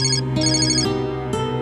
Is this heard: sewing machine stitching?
no